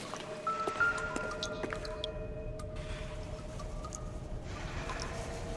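Water dripping inside a building in the video game L.A. Noire, scattered small wet drips and squishy splats over a steady low hum and a faint tonal drone, with no talking.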